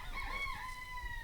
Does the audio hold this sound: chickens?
yes